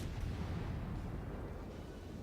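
Naval artillery from warships in World of Warships, a dense sustained rumble of distant gunfire and booms rolling on without pause.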